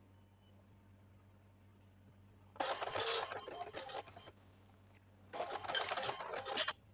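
An Epson LX310 dot matrix printer, just repaired after a stuck print head, prints in two loud buzzing bursts of rasping head movement, preceded by short beeps over a steady low hum.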